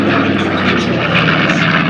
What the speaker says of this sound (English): From the right, the B-25J they call Benny's Dream.